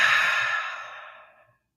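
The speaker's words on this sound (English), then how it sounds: "Nice deep inhale through your nose. And exhale it all out." A single deep exhale during guided breathing practice, a long soft breathy rush that starts strong and fades away over about a second and a half, close and alone.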